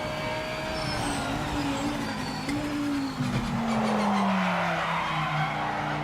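Tyre scrub in the Project Motor Racing video game, a sustained squealing whine from the tyres that slides downward in pitch over steady engine and road noise, fairly loud and continuous.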